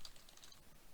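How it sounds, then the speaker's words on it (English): Quick patter of keystrokes on a computer keyboard, a few soft close clicks in a short burst, faint and alone. "We're going to type in create a restore point, hit enter."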